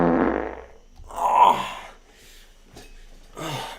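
A short, loud fart bursts out near the start, followed by breathy exhales and a brief snort-like sound, with no speech in between.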